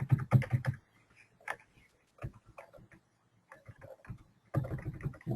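Bursts of quick clacking keystrokes on a computer keyboard while a database query is typed, with pauses between runs of taps and a dense flurry at the start and end, close and alone.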